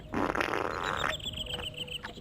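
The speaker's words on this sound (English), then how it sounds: "the bit crushed fart noises in the shitter" Crunchy, bit-crushed digital fart noises play from a toilet in a horror video game, a loud buzzy low-fidelity burst up front followed by a series of quieter glitchy sputters.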